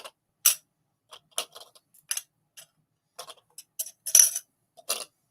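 Whiskey stones drop one after another into glasses, a scattered series of sharp, close clinks and taps against glass at uneven intervals, quiet, with no talk.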